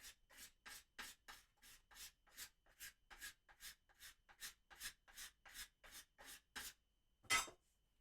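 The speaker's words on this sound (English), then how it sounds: "Scrape the bumps out." A file rasps rhythmically along an acoustic guitar's wooden neck, scraping out bumps in about sixteen steady back-and-forth strokes, close and clear, ending with one louder stroke and no talk.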